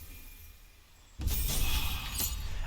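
Shatter spell cast in Baldur's Gate 3, a sudden loud burst of crackling, glassy breaking noise that sustains and shimmers after a quiet lead-in, with no talk.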